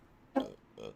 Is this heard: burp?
yes